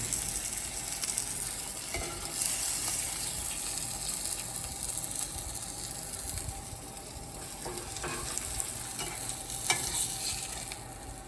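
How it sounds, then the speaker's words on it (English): Two steaks sizzle on a hot baking tray, a steady crackling fry that stays even and moderately quiet for several seconds, with occasional small clicks and no talking. "So I'm just going to put the 2 steaks on the nice hot baking tray."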